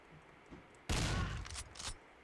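Shotgun fire in a shooter video game: a sudden loud burst of blasts with a short rumbling tail, then a couple of quieter follow-up shots against a quiet background.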